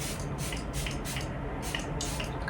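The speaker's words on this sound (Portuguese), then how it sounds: "Agora o spray da Charlotte fixador pra" Charlotte Tilbury makeup setting spray sprays in a series of short, close hissing pumps, about five quick bursts in a row.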